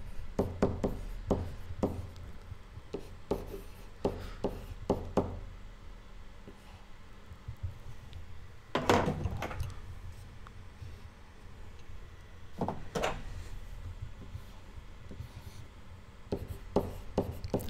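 Handwriting with a pen or marker, heard as close, steady scratching broken by bursts of quick taps and knocks, including two louder strokes, quiet and with no talking.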